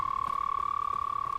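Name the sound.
frogs croaking in Hogwarts Legacy video game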